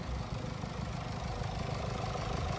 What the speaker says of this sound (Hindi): यह है 2000 CC inline 4 cylinder engine, 245 horse power और 14 का एवरेज